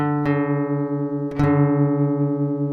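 A deliberately detuned guitar D string rings out with a sustained, wavering out-of-tune tone, plucked twice with clear attacks and long decays, close and alone with no talking.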